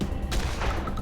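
A shotgun blast fired in Wasteland 2 Director's Cut, a single loud, sharp report up close with a brief rumbling tail and a second burst following.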